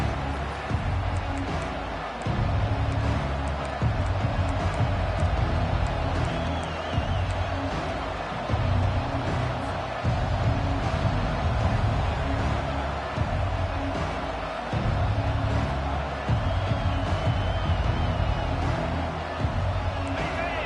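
Dense stadium crowd roars steadily through a college football game between Mississippi State and Ole Miss right after the opening kickoff, a constant loud wash of cheering and noise with no clear pauses.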